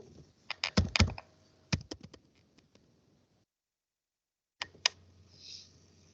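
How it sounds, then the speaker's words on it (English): Quick bursts of clicking keystrokes on a computer keyboard, close and fairly quiet, with a pause of silence before a few more taps. "Or you can type very easily."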